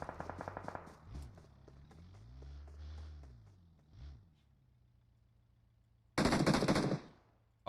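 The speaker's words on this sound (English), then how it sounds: "hearing shots" Gunfire in PUBG Mobile during an esports tournament qualifier: a rapid burst of automatic shots at the start, then quieter, scattered single shots, and finally a loud, sustained stretch of firing near the end.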